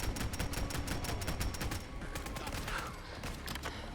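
Rapid bursts of assault rifle gunfire in Fallout 4, dense strings of sharp shots in quick succession with brief gaps, loud and close, with some faint game noise behind.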